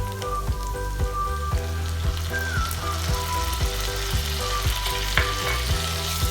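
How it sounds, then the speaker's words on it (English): Steady, close sizzling and stirring of a fresh coconut and coriander paste being stir-fried with browned ingredients, ginger and garlic paste for a bombil curry, with regular scraping strokes of the spoon in the pan throughout. "You don't have to fry the coconut a lot. Just stir fry."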